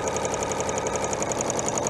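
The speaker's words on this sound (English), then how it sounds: "just allowing that to sew right through the machine" A sewing machine runs steadily, stitching bias binding through a narrow bias binder attachment, with an even mechanical whir and rapid rhythmic needle clatter, close and continuous with no talking.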